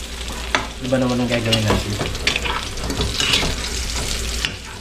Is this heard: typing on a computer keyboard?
no